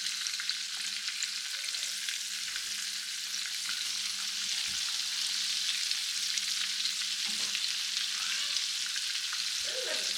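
Morel mushrooms cooking over charcoal outdoors, a steady bright hissing sizzle with faint crackles throughout, no voices.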